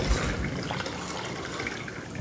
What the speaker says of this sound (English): So I'm going to strain that out.